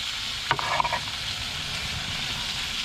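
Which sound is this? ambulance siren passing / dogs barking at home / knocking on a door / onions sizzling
onions sizzling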